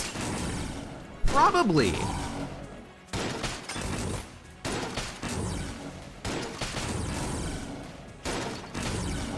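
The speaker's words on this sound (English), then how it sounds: "I'm just shooting." Rapid bursts of gunfire in the video game Enter the Gungeon, including a shotgun, arriving in dense volleys separated by brief gaps, loud and punchy, with a voice briefly talking over the shooting.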